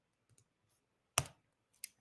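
Sparse keyboard clicks while typing code, a few faint taps then one sharp louder click and a later softer one, in a quiet room.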